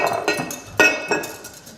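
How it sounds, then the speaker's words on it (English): A whisk clinks and scrapes against a bowl while salad dressing is mixed, giving a few sharp, close metallic taps in an uneven rhythm with no talking. "And then you just whisk it together"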